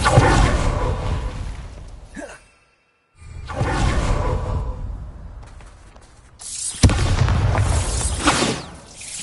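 Bombarda explosion spell in a wizard video game, three loud booming bursts with whooshing tails, separated by brief near-silent gaps.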